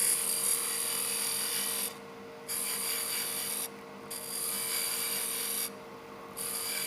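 A skew chisel takes a peeling cut on a spinning wood lathe while shaping a duck call, making a steady, loud scraping rasp in long sustained passes, broken by three short pauses as the tool lifts off.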